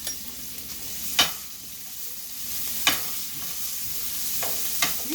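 Asparagus sizzling in a hot pan with garlic for Mongolian beef, a soft steady fry broken by a few sharp clacks of a utensil against the pan, with no talk.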